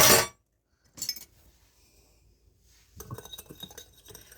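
A utensil clinks against a bowl as ingredients are mixed for a cottage recipe: a sharp clatter, then lighter scrapes and a run of quick taps after a quiet pause.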